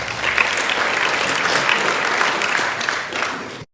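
Applause from a seminar audience welcoming a speaker to an ethics CLE session, steady broadband clapping sustained for several seconds before cutting off abruptly.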